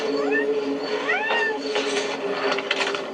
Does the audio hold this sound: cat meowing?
yes